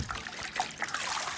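Water swirled by hand in a bucket on a bench at a biodynamic farm, soft trickling and sloshing with small splashes, quiet and close.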